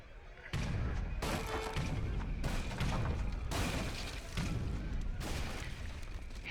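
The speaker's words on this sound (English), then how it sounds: "I'm gonna start shooting his TC with my culverins" Culverins in Age of Empires III fire on a town center, giving a run of heavy booming shots every second or so, with a player talking over the in-game battle noise.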